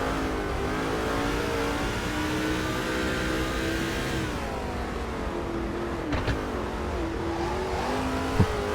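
A NASCAR race car engine in the video game NASCAR 2005 drones at high revs, holding a steady whining pitch that dips and shifts as gears change, loud and continuous.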